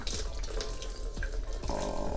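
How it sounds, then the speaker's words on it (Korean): A faucet in an old countryside house runs a thin, steady trickle of water after the water meter has been shut off, a soft continuous splashing heard up close. "이렇게 조금씩 물이 나오는 건 계량기에서 여기까지 들어오는 수도 배관에 남아있던 물들입니다"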